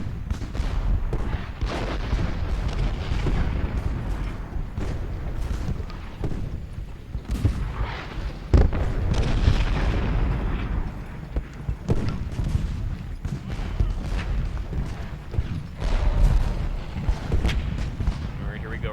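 Cannons firing shell shot in the Ultimate General Gettysburg video game produce repeated heavy booms and rumbling volleys throughout a continuous battle din, with someone talking over it.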